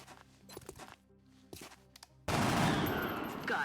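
Gunfire in the video game X-COM Long War: scattered sharp shots and thuds at first, then a sudden loud sustained burst of firing that carries on to the end.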